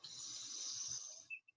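A deep, slow exhale in a beginner's yoga breathing exercise, a soft, steady airy hiss close to the ear that tails off, followed by a couple of tiny mouth clicks.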